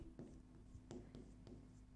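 A pen with a broken nib scratching and scraping across paper in several short, uneven strokes, close and fairly quiet over a steady background hum.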